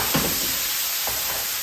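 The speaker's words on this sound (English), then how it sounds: "I'm gonna take the lid off and just check it and give it a stir" Beef sizzles steadily in a hot pan while a tool stirs and breaks up the meat, with a couple of quick scraping strokes over the hiss.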